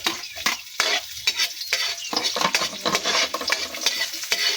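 Chopped onion sizzles in hot cooking oil while a utensil scrapes and stirs through the pan in quick, repeated strokes, close and loud with no voices.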